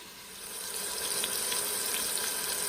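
Pork chops browning in a pan for smothered pork chops, a steady bright sizzle that swells slightly at the start and then holds evenly, close and alone.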